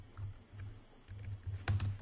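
Someone types on a computer keyboard with a physically different layout, giving quiet, irregular clusters of keystrokes and one sharper, louder clack near the end.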